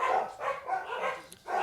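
Several dogs bark in a steady run of repeated bursts, faint and somewhat distant, with short gaps between the volleys.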